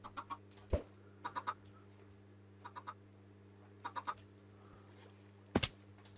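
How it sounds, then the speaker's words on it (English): Chickens in a video game give short clucking bursts in groups of two or three, scattered over a steady low hum, with one louder sharp thump among them; no voices. "Chicken on the loose."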